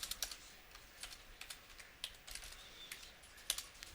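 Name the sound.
typing on a computer keyboard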